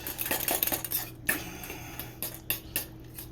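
Eggs with fresh herbs such as dill whisked in a bowl for an omelet, a fork clinking and scraping against the dish in quick, uneven taps over a steady low kitchen hum, close and fairly loud.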